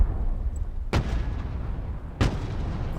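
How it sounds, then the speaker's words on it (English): Two heavy, distant-sounding booms from an artillery barrage in the war game Broken Arrow, each a sharp crack with a rumbling tail, spaced about a second apart over a steady low battlefield rumble. "Something big went boom from our artillery barrage."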